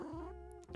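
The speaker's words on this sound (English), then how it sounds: "What's my cat saying?" A pet cat meows once near the end of a quiet indoor stretch, a short close cry after a low steady background hum.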